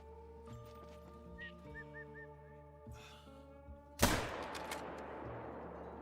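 A single loud, sharp gunshot cracks out while hunting outdoors, its blast trailing off in a long echo, after a stretch of quiet ambience with faint bird calls.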